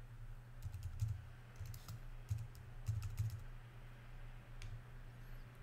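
Short clusters of keystrokes on a computer keyboard entering a product search, soft clicky taps in a few quick bursts with pauses between, over a steady low hum and no talking.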